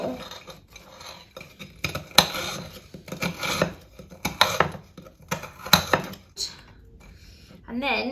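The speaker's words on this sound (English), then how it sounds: "You just want to kind of roughly chop your biscuits. Obviously they crumble." A knife roughly chopping crumbly Biscoff biscuits on a board, with irregular sharp, close knocks and crunches spaced unevenly, and no talking.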